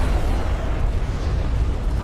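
Missile ship hit exploding in a real-time strategy match, a dense, continuous low rumble of blasts and booms filling the whole stretch at steady loudness, with no voices.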